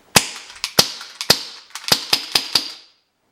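Eight sharp gunshots from an MK23 airsoft pistol fired without a suppressor in an apartment. The shots come in an uneven rapid series, each a loud crack with a short ringing echo off the room.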